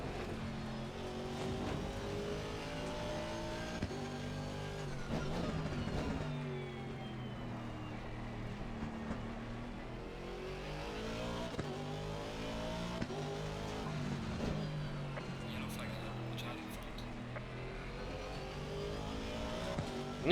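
An Aston Martin V8 race car in a racing video game during practice at Brands Hatch, its engine droning loudly and continuously as it revs up and down through the gears.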